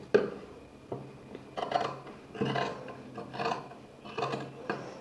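Scissors cut through blouse lining fabric in a series of rasping, crunchy strokes. The bursts come in an irregular rhythm close to the listener, with short quiet gaps between cuts and no speech.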